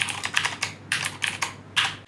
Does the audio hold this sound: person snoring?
no